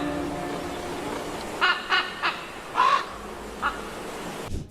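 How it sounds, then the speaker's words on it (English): Several crows give short harsh caws in a loose, irregular series over a steady outdoor hiss, each call brief and moderately close, with a fainter call near the end. "If you think crows are just making noise for no reason,"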